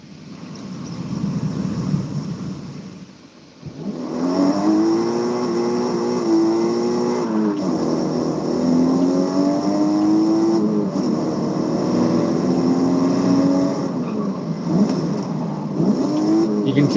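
A 1997 BMW M3 in a racing video game, its engine note rising and falling through rev sweeps and gear changes, loud and continuous after a brief dip near the start.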